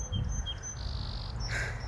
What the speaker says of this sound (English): You guys hear the bird?